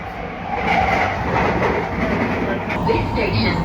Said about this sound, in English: Very noisy, yeah, being on the London Underground.